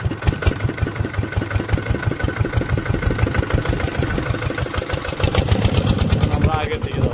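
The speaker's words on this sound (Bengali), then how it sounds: "আমাদের যন্ত্রচালিত নাও তো স্টার্ট হলো।" A motorized fishing boat engine starts on the Brahmaputra river and settles into a loud, steady, rapid chugging putter, close by and continuous throughout.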